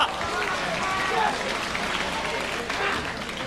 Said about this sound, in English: He goes out of the ring and Kobashi does a plancha and the whole crowd goes, ooh.